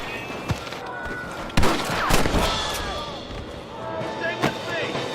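Gunfire in the video game Red Dead Redemption: several sharp shots crack out, one early, a close cluster in the middle and one more later, over a busy background of shouting and commotion.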